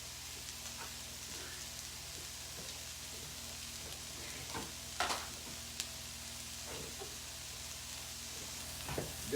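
Vegetables sizzling in a pan, a quiet steady hiss with scattered pops and crackles, a few sharper spits standing out, and no voices.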